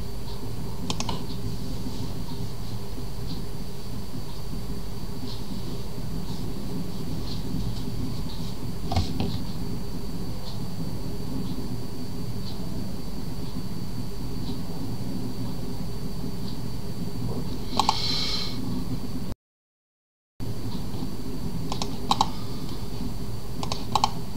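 A password typed on a computer keyboard, with soft, steady key clicks running throughout and a few louder taps, over a constant low machine hum and no speech.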